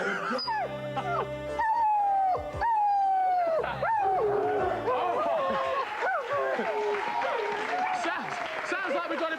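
Several dogs, including one named Herbie, howl and whine together in a television studio, rising and falling wails layered over one another for several seconds with a voice mixed in among them.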